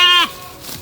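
A six-month-old female Merino-Garut crossbred sheep gives one short, close, loud bleat with a wavering tone that cuts off abruptly, followed by faint background noise.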